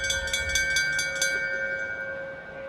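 A handbell shaken at a Dubai horse racecourse rings with bright, rapid repeated strikes and sustained ringing tones. The strikes fade after about a second as the tone lingers over low crowd ambience.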